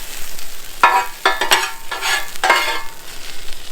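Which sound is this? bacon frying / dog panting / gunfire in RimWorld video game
bacon frying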